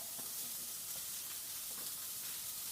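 A homemade burger patty fries in a pan after the heat is turned down, giving a steady, even sizzle and hiss with a few faint pops and no voices.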